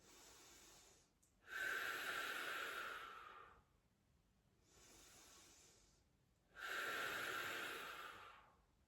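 Slow, close breathing during a Pilates abdominal exercise, with two strong audible exhales through the mouth separated by softer breaths, each forceful breath lasting about two seconds.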